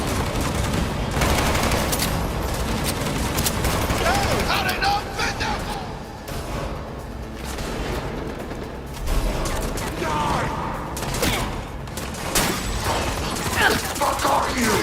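Rapid gunfire bursts and mechanical clatter from a ricochet targeting system in the video game Cyberpunk 2077, continuous and dense across the scene, with voices shouting and talking throughout.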